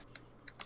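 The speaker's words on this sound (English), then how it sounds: "Are you fucking typing? That's me. I'm typing." Computer keyboard typing, a few quiet, sharp key clicks spaced irregularly in a short burst, faint and close.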